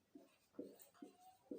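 Chalk or marker writing on a board during a physics lesson, four short quiet scratchy strokes in a soft, even rhythm.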